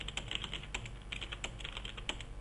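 Steady, fast clicking of keys on a computer keyboard as text is entered in Word 2007, close and fairly quiet, with brief pauses between bursts and no one talking.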